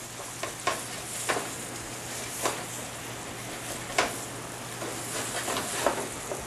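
Fish frying in a pan of butter and oil, a steady close sizzle with soft crackles and occasional louder pops and spits, no voices over it.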